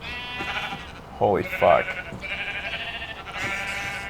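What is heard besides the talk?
sheep bleating in Minecraft video game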